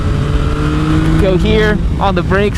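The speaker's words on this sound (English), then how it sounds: "down a gear, and then back on that throttle, baby." Yamaha MT-09 SP motorcycle engine revving as the throttle opens after a downshift, a loud rising drone with climbing harmonics close by, with someone talking over it.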